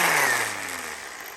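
A snowblower engine being cranked over by its electric starter, a steady loud mechanical whir with a slight drop in pitch as the motor turns.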